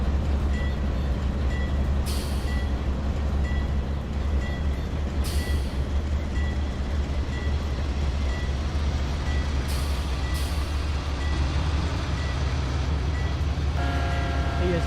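A 10,000-foot CSX coal train rolls along in the Trainz (TRS19) railroad simulator, a steady low rumble of wagons with repeated beeping tones, occasional hissing bursts of air brakes, and a sharper tone pattern near the end.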